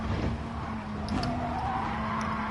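A car in Gran Turismo Sport skids after a nudge, tires squealing against a steady engine drone, with a couple of brief sharp screeches.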